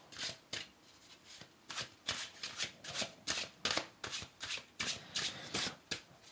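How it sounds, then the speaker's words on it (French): Oracle cards riffled and shuffled by hand in quick repeated bursts, about a dozen crisp papery flutters in steady rhythm, close and clear with no talking. "Oui, elles se brassent très très bien"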